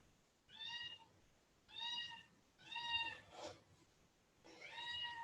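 Kittens crying, four drawn-out high meows in a slow rhythm about a second apart, fairly close but soft, with a short scratchy noise between the third and fourth calls.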